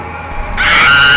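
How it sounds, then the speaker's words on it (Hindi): A sudden loud scream in a horror story erupts after a brief quiet lead-in, bright and sustained to the end of the short moment. "और फिर एक चीख"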